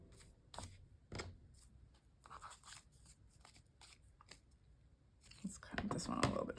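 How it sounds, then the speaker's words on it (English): Scissors snip through paper in a few short, crisp bursts while crafting a Bible journal page, close and fairly quiet, with a louder flurry of rustling cuts near the end. "Let's cut this one a little bit shorter."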